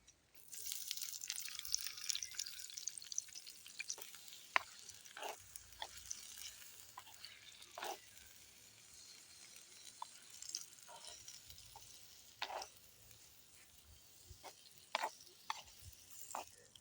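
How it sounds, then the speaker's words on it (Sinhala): Sausages fry in oil in a pan, giving sparse, irregular crackles and sharp pops over a quiet background, some close together and others spaced seconds apart. "දැන් සොසේජස් ටික මචං බැදිලා තියෙන්නේ."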